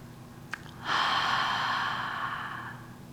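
One deep breath in the middle of a home yoga session: a soft airy breath through the nose and mouth swells up after a tiny click and then fades slowly over about two seconds. It is close and quiet, with no talking.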